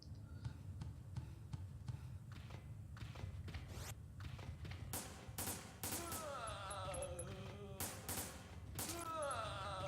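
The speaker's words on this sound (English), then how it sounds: "Forgive the shooting." Rapid volleys of gunfire in the video game Resident Evil Dead Aim, a string of sharp cracks growing denser and louder toward the end, mixed with metallic echoing effects and faint game ambience.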